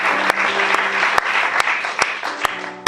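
A church audience applauds a revelation, giving steady, dense clapping with a few sharper individual claps standing out and a faint murmur of voices underneath.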